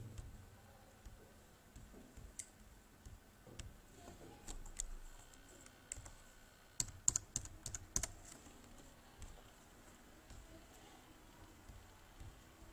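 Typing on a computer keyboard while entering data into TDS tax software, light scattered key clicks in short bursts with a quicker flurry midway, quiet and close against low room noise.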